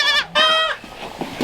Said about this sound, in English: The chorus of goat cries.